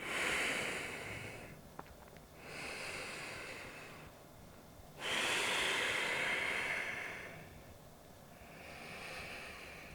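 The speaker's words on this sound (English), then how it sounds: "2 more breaths here." Deep, slow breathing from someone holding a yoga forward fold: long airy inhales and exhales alternate in a steady cycle, close to the microphone, with brief quiet gaps between breaths and no talking.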